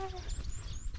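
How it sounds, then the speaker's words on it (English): Wild birds call outdoors in a short burst of high whistling chirps and tweets. The calls are clearest at the start and stand over a low rumbling background. "One thing about this area, it has so many birds."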